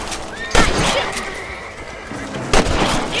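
Two rifle shots at rabbits in the video game Red Dead Redemption, sharp cracks spaced about two seconds apart over a busy outdoor game ambience with a horse nearby.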